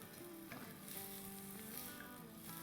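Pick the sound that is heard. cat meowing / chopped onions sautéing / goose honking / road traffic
chopped onions sautéing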